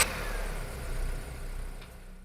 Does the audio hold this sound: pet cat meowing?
no